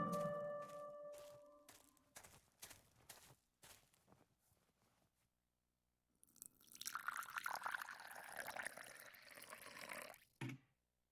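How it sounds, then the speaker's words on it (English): Water pouring from a watering can onto plants in the game Martha Is Dead, a steady splashing stream lasting several seconds after a run of soft footsteps and handling noises. "watering can, I can water the plants."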